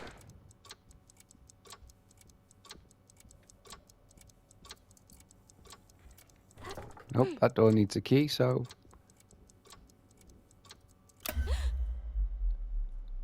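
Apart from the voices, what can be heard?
clock ticking in video game Alone in the Dark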